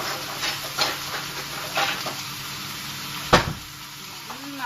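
Chicken curry sautés in a pan, Filipino style, with a steady sizzle and intermittent scraping stir strokes close by, plus a brief clatter near the end.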